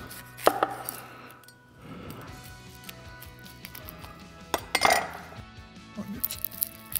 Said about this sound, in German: Eine Zwiebel. Schneide ich mir die Ecken ab.